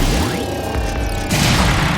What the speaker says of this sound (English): all we have to do to the generator is just shoot it a couple of times and it just blows the hell up